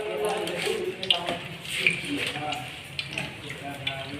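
Potato chops sizzle and crackle in a pan of hot oil at a street food stall, a steady, close, bubbling hiss that runs throughout while someone talks over it.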